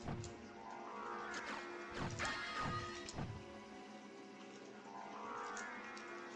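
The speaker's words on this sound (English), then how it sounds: "I just strung together a couple of wing smashes" Wing smash attacks in Castlevania: Symphony of the Night, heard as a few sharp whooshing crashes strung together around the middle of the stretch, over a steady game-music bed with no talk.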